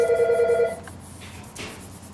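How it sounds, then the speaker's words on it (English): A telephone rings with an incoming call, giving a loud, close electronic trill that stops partway through, followed by faint room noise. "Apparently I'm getting a phone call"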